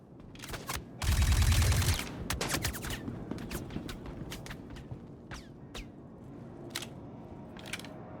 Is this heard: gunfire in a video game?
yes